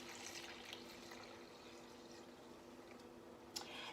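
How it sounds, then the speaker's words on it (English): Vegetable broth pours into a cooking pot, a soft continuous liquid stream at low volume, ending with a small splash near the close. "I got a veggie broth from December 22 that I am going to put in here instead of just plain"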